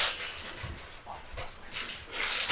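Goldie the dog whimpers softly, a few faint, thin whines and small yips rising over a hissy, quiet background with no talk.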